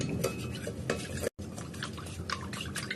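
A utensil stirs and scrapes through a sauce of soy sauce, oyster sauce, sugar and pepper in a bowl, quick repeated clinks and swishes close by, steady and uninterrupted apart from one brief break.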